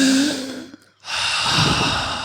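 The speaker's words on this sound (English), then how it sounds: "take a deep breath in." A person takes a deep breath, a long hissing inhale followed by a brief pause, then a strong, airy exhale close to the microphone.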